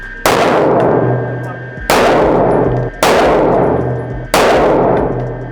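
Four loud gunshots ring out at a car, evenly spaced about a second and a half apart, each a sharp metallic blast followed by a long echoing decay.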